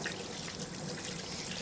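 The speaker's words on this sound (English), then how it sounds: "Give my hands a quick wash." Tap water runs steadily into a kitchen sink as hands are washed, a continuous trickling pour at close range with no voices.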